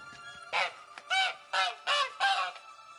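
A caged bird in The Witcher 3 gives five loud, honking, goose-like calls in an even rhythm, each separated by a short pause, with nothing else heard.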